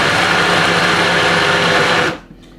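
Blender running loud and steady as it purées tomato gazpacho, a dense whirring roar that cuts off abruptly near the end, leaving near silence.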